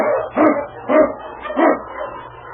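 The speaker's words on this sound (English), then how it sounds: "King, the swiftest and strongest of Eskimo lead dogs, blazes the trail through storm and snow" King, an Eskimo lead sled dog, gives four loud, close barks in an even rhythm, each one ringing briefly before the next, with no voices around.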